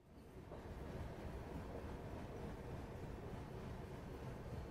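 The Tirumala Express rolls along the rails near Visakhapatnam behind a WAG-6 locomotive, a steady, low rumbling roar with faint clatter that holds at a constant level throughout, with no voices.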